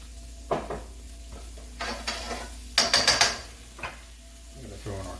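Shallots hitting hot oil in a pan for chicken piccata, giving short sizzling bursts mixed with stirring and utensil clatter against the pan, close and moderately loud.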